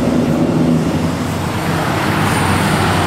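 Street traffic in Worcester rolls past in a loud, continuous roadway roar, cars and heavier vehicles blending into a steady rumble with no clear gaps and no talk.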